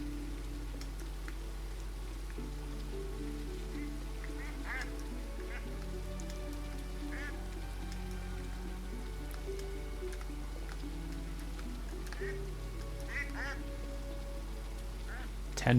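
Ducks in a fantasy shop simulator video game give short scattered quacks and small dripping blips over a low steady hum and game music, fairly faint throughout.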